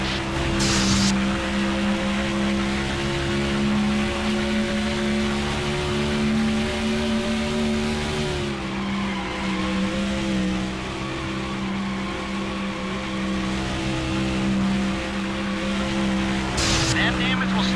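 Race car engine in the NASCAR Thunder 2004 video game, a loud steady drone with a shift in pitch midway, running continuously while a spotter's radio voice talks over it.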